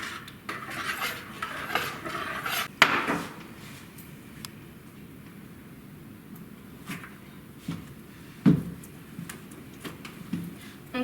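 Powder and water being stirred into a paste in a bowl at home, giving scattered scraping and clinking knocks of utensil against the bowl, with a sharper clack near three seconds and another near eight and a half, otherwise quiet.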